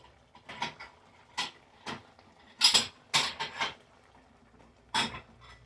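Little white Corelle bowls clink and tap as they are handled in a home kitchen. The light ceramic knocks come irregularly, with a few louder clatters among softer taps, and no one speaks.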